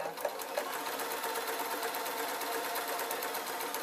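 A sewing machine stitches a short run on a simple waistcoat, its rapid, even needle clatter running steadily and close for the whole stretch with no voices.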